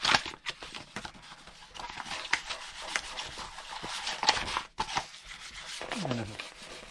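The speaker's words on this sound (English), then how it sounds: "So I'm going to sand this down, take the sheen off it." Light hand sanding across the painted body of a cheap Amazon kit guitar, a steady run of soft scratchy rubbing strokes up close, broken by a short pause midway, with no talk.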